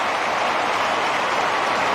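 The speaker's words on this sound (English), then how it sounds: "Something for their fans to cheer about." Carlton Blues supporters roar at the MCG after a late goal in a 2007 AFL match against Melbourne, a steady, dense wash of crowd cheering and applause holding at full volume throughout.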